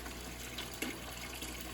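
Water trickles and gurgles steadily as an aquarium gravel siphon, pushed down into the gravel of a 55-gallon fish tank, pulls out fish waste, with a faint continuous flow and one small splash.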